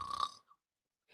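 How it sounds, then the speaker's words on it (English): A person snores once with a short nasal rasping snort, close and fairly loud, followed by near silence and the start of another breath. "Is your spouse's snoring becoming an issue?"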